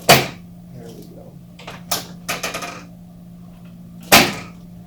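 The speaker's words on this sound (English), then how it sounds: "So I'm using a drop table here." A chiropractic drop table drops during a spinal adjustment: a few sharp, loud clunks spaced across a few seconds, the first and last strongest, with a steady low hum underneath and no talking.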